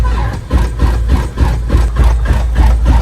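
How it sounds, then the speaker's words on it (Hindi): In bitter cold, an engine cranks without catching: a close, loud run of rhythmic churning pulses, about two or three per second, with no voices. "तुम्हारा इंजन ही स्टार्ट नहीं हो रहा, बहुत ज्यादा ठंड है।"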